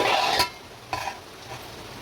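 Ridge gourd curry with masala cooks in a pan: a spoon scrapes and stirs loudly, then a soft sizzle and a couple of lighter clinks follow, with no voices.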